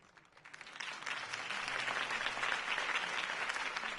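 Crowd applause following a campaign speech for Harvey Dent, a dense, steady clapping that swells in over the first half second and holds loud and even throughout, with no voices over it.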